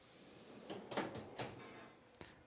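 A Husky tool box drawer slides shut with a soft-close action, giving a few quiet rolling and thudding contacts followed by a brief light click near the end, close and fairly faint.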